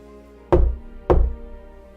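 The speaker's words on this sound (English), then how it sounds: "you hear a knock at the door" Two heavy, dull knocks on a door about half a second apart, close and resonant, each fading quickly into quiet.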